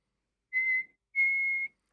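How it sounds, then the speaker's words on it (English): Two clear whistled notes from a person, a short one followed by a longer sustained tone, close and alone with no talking. "Always with the whistling"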